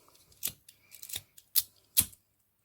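Four crisp scissor snips trimming excess ribbon from a handmade boutique hair bow, close and distinct, spaced roughly half a second apart with faint handling rustle between cuts.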